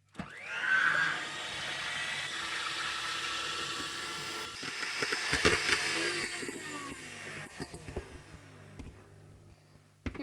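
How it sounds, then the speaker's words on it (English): An electric mixer beats egg whites for a Hungarian chocolate goosefoot cake, a steady whirring motor drone running throughout with a brief pitch rise near the start and small clattering knocks against the bowl later. "And now we beat the egg whites."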